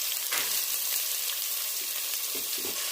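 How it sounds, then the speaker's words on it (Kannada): Onions and chillies frying in a pan, a steady, dense, loud sizzle that continues without a break, with a few faint stirring touches beneath it. "ಈರುಳ್ಳಿನೂ ಸಹ ಚೆನ್ನಾಗಿ ಫ್ರೈ ಮಾಡ್ಕೋಬೇಕು."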